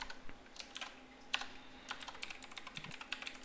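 Keystrokes clatter on a computer keyboard while code is typed for a Raspberry Pi Pico W MicroPython MQTT project, with quick irregular taps and short pauses, close and fairly quiet, with no talking.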